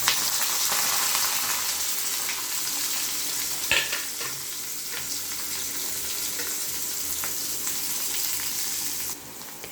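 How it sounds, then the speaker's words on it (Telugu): Chopped onions sizzle and fry steadily in a hot pan for a Telugu kakarakaya fry, with a continuous close hiss and occasional stirring clatter, and no voices. "ఇప్పుడు ఈ కట్ చేసుకున్న ఆనియన్స్ అన్నీ వేసేద్దామండి."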